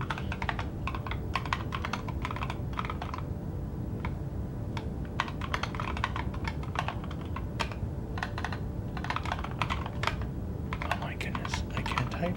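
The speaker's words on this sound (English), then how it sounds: "Switching between keyboards is really making me very self-aware of how sloppy I've gotten at typing." Fast, uneven typing on a computer keyboard clatters on without a break, the keys clicking close and crisp over a low steady background hum.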